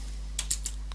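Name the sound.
typing on a computer keyboard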